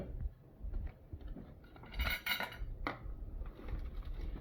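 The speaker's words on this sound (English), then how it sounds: "we're going to first start out by measuring 3 cups of cereal" Three cups of cereal tumble into a mixing bowl, with light rattling, clinks and scrapes that rise into a brief dense pour midway before settling into scattered small knocks.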